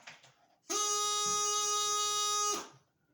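One steady G note held on a bagpipe chanter for about two seconds, loud and reedy, with faint background noise just before and after it.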